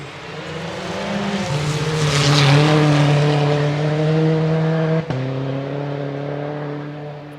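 A rally car on a forest stage at the Canterbury Rally, its engine note rising as it approaches, then revving hard with a sharp gear shift midway, loud and close with no talk over it.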